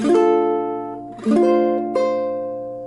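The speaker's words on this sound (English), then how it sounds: "you're just going to strum that 3rd fret by itself where the pinky's at" A ukulele sounds three strums of the A string held at the 3rd fret, each bright note ringing out and decaying before the next, played alone and up close.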